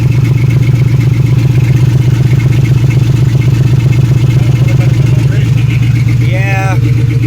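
A 2006 Pontiac Grand Prix engine idles steadily after its first start-up, a loud, even low rumble with a constant rhythm that continues throughout, with a brief rising squeal near the end.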